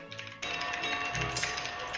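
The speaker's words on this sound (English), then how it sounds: "Someone is very angry. He's typing." Keyboard typing during a Bavaria strategy game session: a quick burst of clicking keystrokes that starts abruptly and stays dense and close, with a voice talking briefly underneath.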